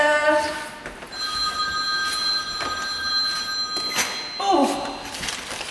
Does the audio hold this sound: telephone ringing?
yes